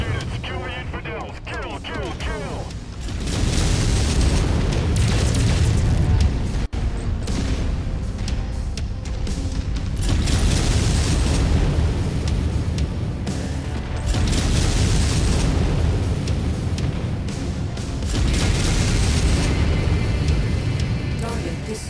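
Explosions of destroyed targets in MechWarrior 5, a game about piloted mechs fighting scorpion tanks: heavy booming blasts and rumbling gunfire fill the scene in loud waves, with voices talking over the combat.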